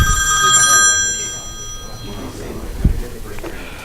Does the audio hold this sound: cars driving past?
no